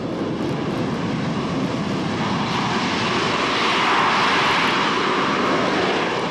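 An AV-8B Harrier jump jet, developed by British Aerospace and McDonnell Douglas and flown by the Marines, roars with a loud, steady engine whine and broad blast that holds constant and swells slightly toward the end, with no voices.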